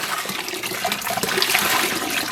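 Water rushing and splashing steadily and loudly while dyed green yarn is rinsed, like a running tap.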